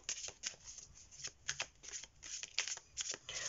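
Tarot cards are shuffled and drawn by hand, producing quick papery riffles and flicks in irregular bursts, close and fairly soft, with no voice.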